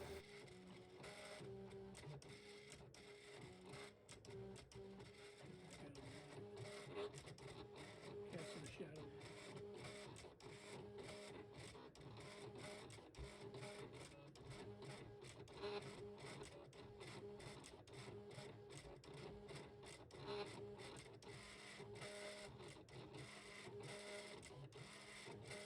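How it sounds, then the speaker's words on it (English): A Cameo cutting machine cutting window masking, a steady mechanical whirring with rapid clicking carriage movements, continuous and close, with faint talk underneath. "we got it sent over to the cutting machine, and it's getting ready to make the cut"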